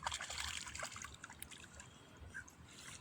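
Rice seedlings being pulled by hand from a wet, flooded paddy field, giving faint close sloshing, trickling and dripping water with soft muddy splashes, no voices.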